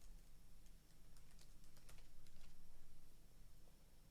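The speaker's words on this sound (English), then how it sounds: "type in Infusible Ink" Soft, quick keystrokes on a computer keyboard entering a material search in Cricut design software, a steady patter of faint clicks over a low background hum with no voices.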